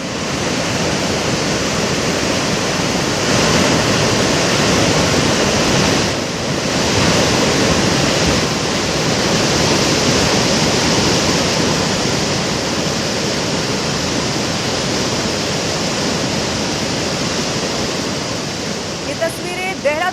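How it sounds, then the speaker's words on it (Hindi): Floodwater after a cloudburst in Dehradun rushes past loudly and steadily, a dense, unbroken roar of torrent that continues throughout with slight swells. "प्रचंड वेग के साथ ये जो पानी आपको नजर आ रहा है"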